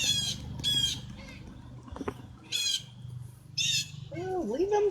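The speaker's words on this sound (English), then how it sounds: "Oh, leave them birds alone." Birds squawk in several harsh, repeated bursts up close, one thin rising call near the end, while a person talks quietly in between.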